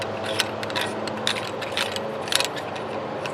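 Faint metallic scraping and ratcheting clicks as a section of a King Camp military shovel is threaded on in reverse, small irregular gritty turns close by with no talk.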